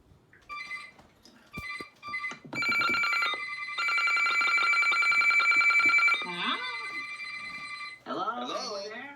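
Sima FirstAlert WX-150 weather radio from 2005 sounding its alert, a loud electronic telephone-like ring in repeated bursts, with a voice speaking briefly at the end.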